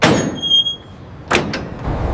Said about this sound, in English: Trailer doors are sealed and locked for secure transport.